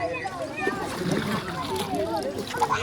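Boat travelling on a river during a traditional fishing festival in Karbi Anglong: continuous splashing and sloshing water close by, with people talking over it throughout.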